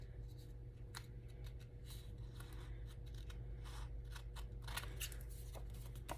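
Scissors trimming uneven 4.5 by 4.5 inch paper squares straight for junk journal page pockets, a run of quick crisp snips in irregular bursts over a low steady hum, close and alone without talk.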